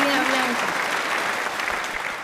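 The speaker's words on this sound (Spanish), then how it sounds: "un fuerte aplauso para Blanca." An audience applauds a book author, a dense burst of clapping that holds steady and fades slightly toward the end. A voice is heard briefly at the start.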